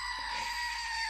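A screaming goat toy kept beside a sewing machine lets out one continuous shrill, bleating scream lasting about a second, loud and close with no talking over it.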